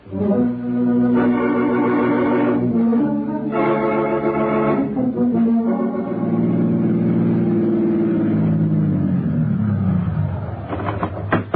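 A car driving through New York traffic as a radio drama sound effect: a loud, close engine that revs in repeated surges, then drops to a lower drone and slows before picking up again briefly, with no voices.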